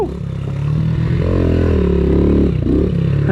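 A Yamaha TTR 90 dirt bike with worn-out suspension is ridden close by, its small engine revving in a rising buzz over a clacking, clattering rattle from the suspension.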